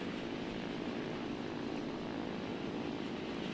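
The KI 45 Dragon Slayer, a twin-engine fighter in War Thunder, drones with a continuous propeller-engine roar that stays steady and unbroken from start to finish, with no voice over it.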